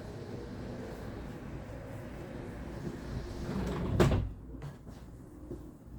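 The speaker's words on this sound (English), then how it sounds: "I'm going to close the door quick." An indoor door swings shut with a single solid thud about two-thirds of the way through, set against a steady outdoor background hum.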